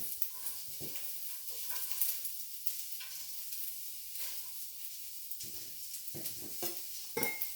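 Cabbage cooks in a pan with a soft, continuous sizzle and hiss, broken by a few scattered clinks and stirring scrapes, and no talking.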